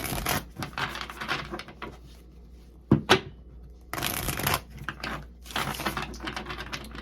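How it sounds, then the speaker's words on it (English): Tarot cards handled and shuffled up close, with bursts of papery riffling and rustling broken by a sharp tap or two, irregular and fairly loud with no voice. "Okay, I'll get the cards out first"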